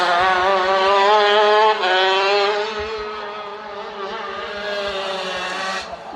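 80cc shifter karts racing at the IKF Grand Nationals give a loud, close, high-pitched engine whine that dips as they brake into a turn and then climbs again as they accelerate out.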